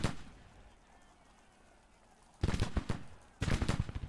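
Infantry musket volleys in the Civil War video game GTCW, two ragged bursts of many shots after a quiet stretch, loud and crackling with rolling echoes.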